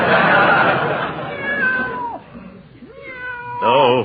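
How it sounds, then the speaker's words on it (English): A cat meows several times, each call rising and falling, close and clear, with a longer wavering yowl at the end, heard over a busy background of overlapping voices in a household. "Give the cat a boot if he bothers your Peavy."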